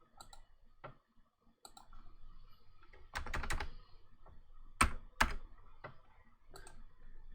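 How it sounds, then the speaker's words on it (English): Keyboard shortcuts tapped on a Commodore Amiga 500 keyboard, scattered sharp clicks with a denser flurry of keystrokes midway, close up over a low steady hum. "I do use the keyboard shortcuts"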